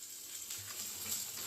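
Onions sizzling in hot oil in a home kitchen, a soft, steady hiss that sounds fairly quiet, with no voices.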